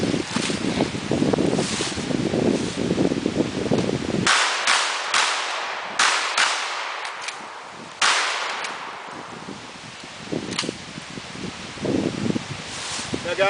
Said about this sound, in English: It's really windy out here.